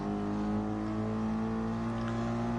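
A yellow Mercedes GT race car in a DTM racing video game at the Nürnberg circuit holds a steady, droning engine note with layered harmonics, continuous and even in level, with no talking.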